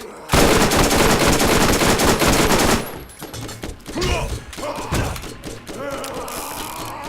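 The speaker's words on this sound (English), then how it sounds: "Slow firing SNS machine gun." A slow-firing SNS machine gun in Borderlands blasts a loud, continuous stream of shots for about three seconds, followed by scattered thuds, impacts and softer clattering game effects.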